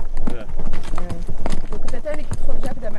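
Horse hooves clip-clopping on an outing near Tipaza, Algeria, a steady run of close hoof strikes heard beneath overlapping voices talking throughout.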